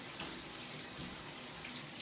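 A shower runs during a natural curly hair wash, giving a steady, full hiss of spraying water throughout, close and even in level, with no talk.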